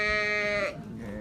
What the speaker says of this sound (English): Bighorn sheep were once widespread in North America.